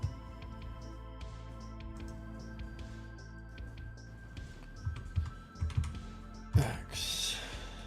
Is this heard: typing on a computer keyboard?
yes